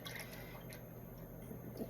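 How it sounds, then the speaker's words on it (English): Four cups of rhubarb juice poured into a cooking pot, a faint steady liquid trickle and splash at low level lasting the whole moment without pause. "we are going to take 4 cups of rhubarb juice and pour it into our pot"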